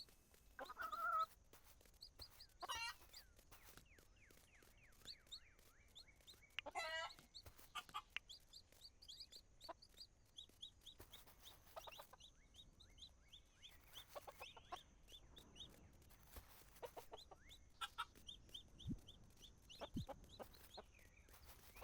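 Chickens cluck in the farming game Dinkum, scattered bursts of hen calls and soft bawks over a quiet background, some louder calls near the start and a busier run of clucking through the middle.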